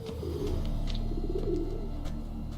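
Pigeon cooing in The Witcher 3 video game, a soft repeated throaty coo rolling in low bursts over a steady ambient background, close and clear with no speech.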